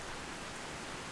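Steady rain falling in the Skyrim video game world with rain occlusion, a soft even wash of drops on surfaces throughout, fairly quiet, with no voices.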